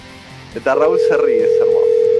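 A steady telephone tone drones on continuously after a brief click while calling a heavy metal band in Ohio, with someone talking over its start.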